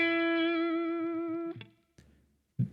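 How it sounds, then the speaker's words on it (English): A clean electric guitar note is bent up and held with vibrato, ringing strongly for about a second and a half. Brief string and fret noises follow, then a short pluck. "I'm now bending up to the note and then doing the vibrato"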